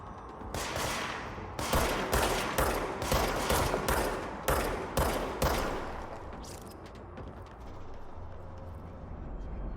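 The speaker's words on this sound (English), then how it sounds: "Oh, they are shooting at me." Enemies in the video game Control fire at the player in rapid bursts of sharp gunshots, loud and close, in an uneven volley that thins out after several seconds into a quieter rumbling background.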